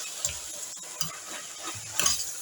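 Carrot pieces cook in a pan and are stirred, giving a few faint scraping strokes and soft clicks over a quiet background sizzle, close and brief.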